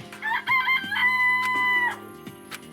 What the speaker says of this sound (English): It's a chicken.